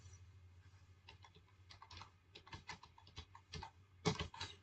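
A file name is typed on a computer keyboard in quick, irregular keystrokes, quiet and close, ending in a slightly louder flurry of taps.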